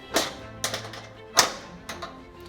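A Frigidaire oven door hinge lock being flipped down on both sides, giving a few sharp metallic taps and clicks, close and distinct, alone without talk.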